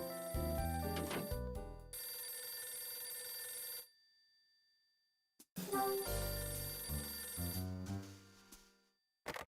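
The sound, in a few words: telephone ringing in the video game Last Window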